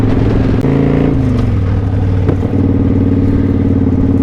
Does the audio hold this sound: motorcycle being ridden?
yes